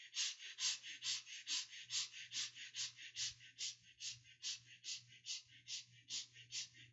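Quick, short, gentle breaths in a steady rapid rhythm during a guided breathing exercise, about twenty close, airy puffs evenly paced over a faint low hum, with no talking.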